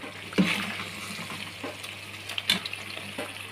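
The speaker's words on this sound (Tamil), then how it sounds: "இதை வந்து கலரி விட்டு மறுபடியும் மூடி வைக்கலாம்" Curry-leaf chicken gravy being stirred in a pan, with a few soft scraping clinks of a spoon over a low, steady sizzle, close and fairly quiet, no voices.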